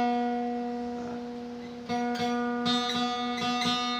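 A guitar's second string rings a sustained B note while being tuned by ear, then several plucked strings sound together, close and clear with no talking.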